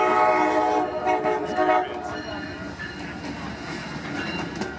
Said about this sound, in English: I'll wait for the train.